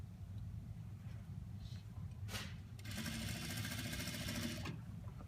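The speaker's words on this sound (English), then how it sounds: "we're just gonna overlock it" An overlock sewing machine stitches a knit neckline in a short, fast, rattling run of about two seconds, heard close over a steady low hum.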